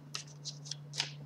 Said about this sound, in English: As I'm shuffling here, I'm continuing to focus on the energy of the sign of Pisces